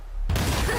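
A TNT blast in the video game Zenless Zone Zero erupts suddenly after a quiet lead-in, a loud broadband boom that holds as a dense roaring rumble to the end.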